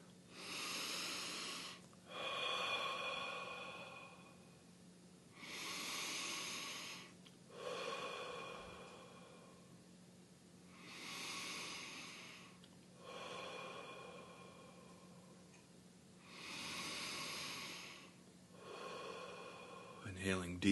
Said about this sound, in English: breathing in through your nose and out through your mouth